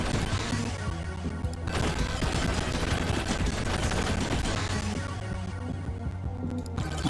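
Shotgun blasts from the video game Megabonk fire nonstop in dense, rapid succession, layered over a constant wash of game effects and music, loud and continuous throughout.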